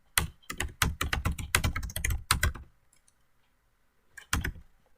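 Rapid keystrokes of someone typing code on a computer keyboard, a close, clattering burst followed by a pause and a few final taps.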